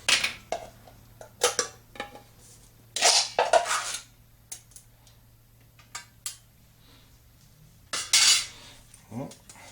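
Can of Thrive butter powder being opened: scattered metallic clinks, scrapes and lid clatters in irregular bursts, fairly close and moderately loud, with no talk.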